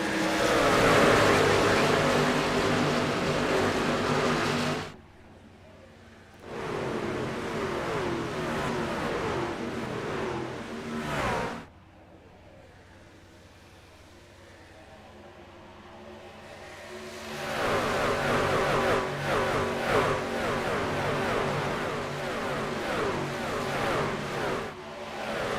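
Racing truck engines roar at a green-flag restart in an iRacing Truck Series race at Kansas, loud revving bursts broken by two short drop-offs, then the pack surges back to full throttle with whining engine harmonics.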